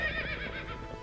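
A horse whinnies loudly and close by in a single short, wavering neigh that fills the whole moment.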